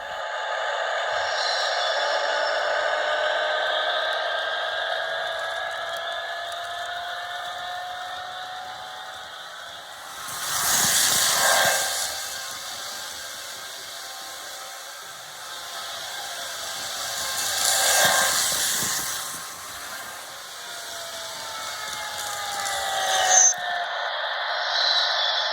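A Marklin 37793 EuroDuplex TGV high-speed model train runs at top speed with a continuous high motor whine and rail hum. The sound swells into louder rushing passes at intervals, with no talking.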